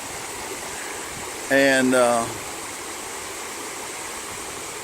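Steady rushing of water running down into a river, a continuous broadband roar close by, with a brief spoken word cutting in partway through.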